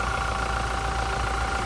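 A manual Toyota Hilux with a 2GD 2400 cc diesel engine idling under an insulated hood, a steady, close diesel rumble with an even knocking texture and no talk.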